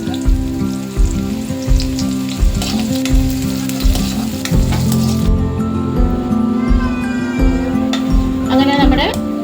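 Sliced onions fry and are stirred in a pan for a Kerala-style prawn curry, a steady loud sizzle with rhythmic squishing scrapes of the spoon running throughout.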